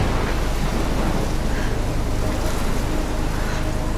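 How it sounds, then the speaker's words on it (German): A storm with a huge tornado in the video game Life is Strange: a steady, dense roar of wind and rushing water with a deep rumbling underneath, loud and unbroken throughout. "Also da ist auf jeden Fall ganz mieses Wetter, ein riesiger Tornado."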